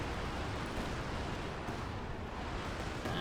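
An artillery barrage in Company of Heroes 2 comes through as a dense, continuous roar of overlapping blasts and rumble, loud and unbroken throughout.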